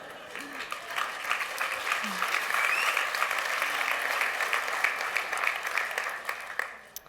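A large crowd roars with cheering and applause at Eliud Kipchoge's finish of a marathon in under two hours, a loud, steady wall of clapping and shouting that holds for the whole stretch.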